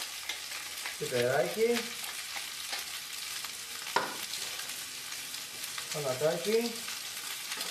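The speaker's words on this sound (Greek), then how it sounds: "τσιγαριστήκανε τα υλικά στο τηγάνι" Bow-tie pasta with artichokes, olives and pine nuts sizzles and is stirred in a frying pan, a soft steady crackle under two brief bursts of speech.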